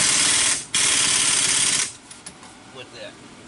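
Impact gun tightening wheel bearing bolts on a 2008 Chevy Impala, rattling loudly in two close bursts with a brief pause between, then cutting off into quiet shop noise.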